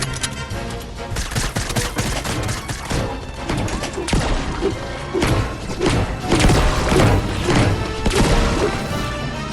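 Rapid bursts of gunfire from a shooter video game, dense repeated shots and impacts over a loud, busy soundscape with a faint voice underneath.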